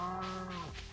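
A cow lows in a video game, a single drawn-out moo with a rich harmonic tone that dips in pitch toward its end, close and alone.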